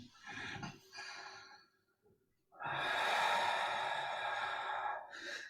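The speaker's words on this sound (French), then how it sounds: "Et on va respirer dans la position" Slow, audible breaths during a Pilates side bend, with two softer breath sounds followed by a long, loud, airy exhale that runs for several seconds and then a brief final puff.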